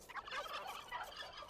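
Turkeys gobbling in a strategy video game, a steady chorus of warbling gobbles that runs throughout at moderate loudness with no talk over it.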